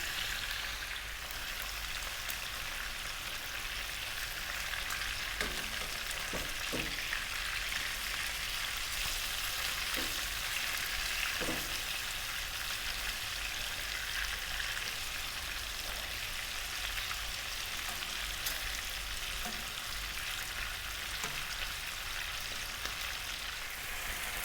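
Lamb pieces sear in a pan over medium heat, giving a steady, dense sizzle with a few soft knocks as the meat is tossed, and no voices.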